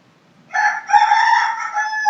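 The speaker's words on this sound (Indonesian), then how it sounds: "ayam pada ribut semua" A rooster crows loudly and close by, one long sustained call that starts after a brief near-silence and carries on to the end.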